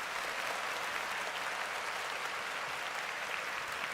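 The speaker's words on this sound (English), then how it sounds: "I'm going to give myself a round of applause." Steady, dense applause from an audience during a live sports talk stream, a continuous even wash of clapping filling the whole moment at moderate loudness with no voices over it.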